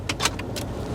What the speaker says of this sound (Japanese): カードキーでここに刺すと、そうすると